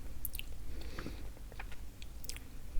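Someone bites and chews a dense, firm white piece of food up close, with a few crisp bites followed by soft, irregular chewing.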